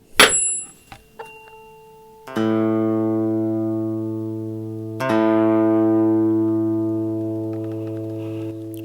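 A tuning fork for the note A is struck and rings a steady pure tone, then is struck again and hums on, slowly fading, after a few light taps at the start.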